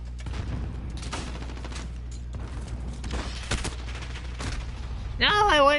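Rapid bursts of gunfire crack repeatedly in the video game Call of Duty: Modern Warfare, sharp shots spread across several seconds, with a voice briefly heard at the end.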